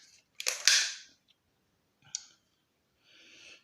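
A Black Ops Soul Langley air rifle with a silencer fires a JSB RS Diabolo pellet at a 10 m target, giving a sharp, close clicking crack followed by fainter mechanical clicks and a short rustle.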